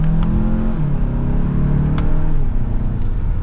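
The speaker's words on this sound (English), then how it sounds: "setting off now in the Santa Fe" A 2024 Hyundai Santa Fe Calligraphy 2.5T AWD with a turbo engine pulls away and accelerates, its steady engine drone rising in pitch from inside the cabin, loud and continuous with no talking.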